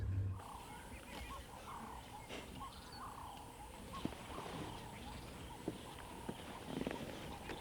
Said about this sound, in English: I can hear a lion roaring in the distance.